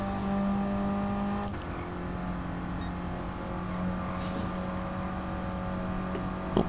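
Mini Cooper race car in a Greddy Cooper Z League race at Lago Maggiore, its engine droning steadily and climbing through the gears with a sharp change near the start, loud and close throughout, no voices.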